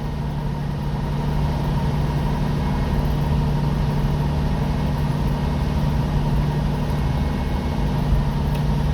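A Jeep CJ-7 engine idles steadily while warming up, a continuous loud low rumble with a constant mechanical hum and no break throughout.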